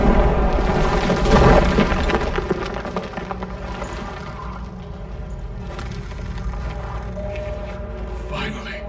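Stalagmites shattering in The Witcher 3, a heavy booming crash with crumbling debris at first that fades into a low rumbling, echoing cave ambience, with voices talking over it.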